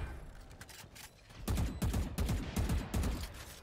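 Gunfire in a Valorant esports match, quick clusters of rapid shots with a couple of brief bursts early and then louder repeated volleys close up, over faint game ambience.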